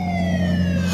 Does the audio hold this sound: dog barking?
no